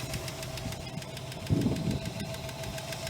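A 1962 Oldsmobile 98 engine runs at a steady idle with a rhythmic knocking pulse, close up, with a slight surge partway through.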